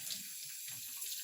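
Running tap water for rinsing an India ink resist painting on paper: a steady, faint hiss of water flowing from a faucet, continuous and even.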